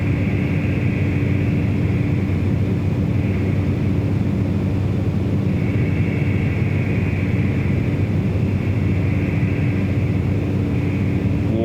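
Continuous drone of a Cessna 208B Caravan turboprop in Microsoft Flight Simulator 2024, a steady engine roar with a whining tone that swells slightly at times, heard from the cockpit without talking.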